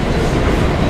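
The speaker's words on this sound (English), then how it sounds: "This train is running the 6th Avenue local." An R179 five-car subway train running on the A line as a 6th Avenue local, heard from inside as a loud, close, steady roar of wheels and motors with a dense rumbling undertone and no talking.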